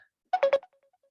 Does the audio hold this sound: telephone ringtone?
yes